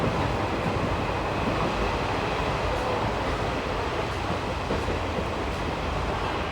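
Passenger train on the Jodhpur to Jaisalmer desert route near Ramdevra, a steady loud rumble of running wheels and carriage noise with no break, heard from inside or close by.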